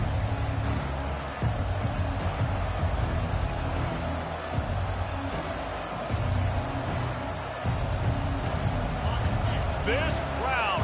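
Loud football stadium crowd roaring steadily throughout, a dense continuous wall of cheering and noise with commentary talk over it.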